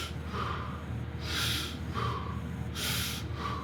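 Deep rhythmic breaths through the nose during fascial exercises for running, three sharp inhale-exhale bursts spaced about a second and a half apart, close and clear over low room hum.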